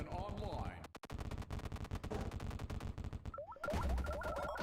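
Rapid, dense bursts of super weapon fire from a game in the Zae alpha 3 build, a steady loud volley with a brief break near the start, charge-up whines and a louder blast toward the end.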